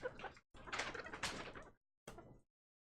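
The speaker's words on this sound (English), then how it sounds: "That squeak is what we want." A wet wipe drags across a Nintendo Switch screen in short, close, squeaky rubbing strokes: two longer passes, a brief pause, then one quick final wipe.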